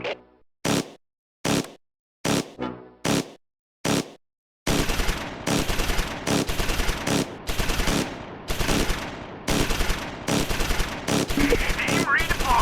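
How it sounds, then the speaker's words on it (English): Light machine gun firing in the Close Combat 4 war game set during the Battle of the Bulge: separate sharp single shots at first, then loud, sustained rapid bursts of automatic fire. "The Germans have a light machine gun in the woods to the east, firing on the church."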